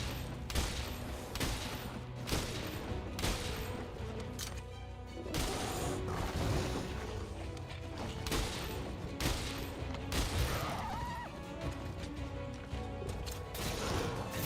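Gunfire and combat noise from Monster Hunter: World, with dense repeated shots, booms and mechanical clanks layered over game music, loud and continuous with no speech.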